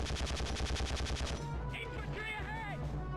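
Rapid automatic gunfire from Conflict: Desert Storm, a dense string of evenly spaced shots for about a second and a half, then a low rumble with warbling radio-like chatter and tones.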